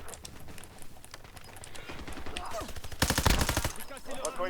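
Bursts of gunfire in the Call of Duty Warzone video game, with rapid repeated shots building into a loud, dense volley near the end, under game chatter and background sounds.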